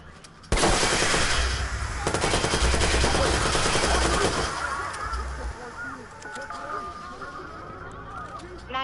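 Loud, sustained bursts of video-game gunfire in Watch Dogs, rapid automatic shots filling the first few seconds before thinning into scattered noise with voices under it.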